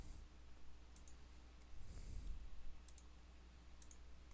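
Mouse clicks on a Windows computer during a roaming profiles setup, faint and sparse: a few short, crisp clicks spaced apart over a low hum of room noise.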